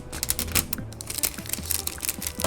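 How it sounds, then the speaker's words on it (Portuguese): Plastic wrapping being pulled off a QRD Stellar T5 game controller, heard as dense, close crinkling and crackling in quick irregular bursts, with no voices. "Vamos começar com a melhor parte, tirar o plástico."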